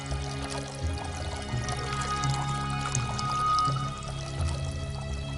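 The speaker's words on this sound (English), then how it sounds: "One jar of water steadily running into another." An ancient Greek water clock, one jar of water running steadily into another, pours in a continuous close, full splashing stream that stays even throughout.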